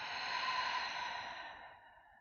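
A soft, airy exhale from a yoga instructor, close and breathy, fading gradually over about two seconds.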